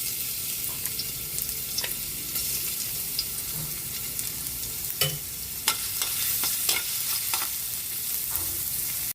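Garlic frying in a hot pan while a utensil stirs it, giving a steady close sizzle broken by irregular scraping and clinking strokes against the metal.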